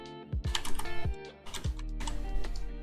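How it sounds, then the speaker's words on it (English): Quick clicking keystrokes on a computer keyboard, irregular bursts of close, crisp taps without voices. "I'm going to type in wrong input"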